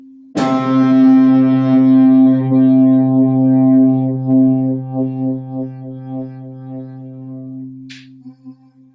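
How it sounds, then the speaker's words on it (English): A single sustained C note on electric guitar rings out loud and clear with rich harmonics, slowly fading with a slight wobble before a small click near the end. "See how it feels when you hear C on the guitar."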